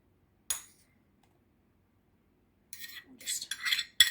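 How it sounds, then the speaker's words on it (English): Chopped onion sprinkled onto pizza scone dough: one soft patter, then a pause, then a cluster of light rustling taps as pieces scatter, close and quiet with no talk. "I am going to start with my onion and just sprinkle it around"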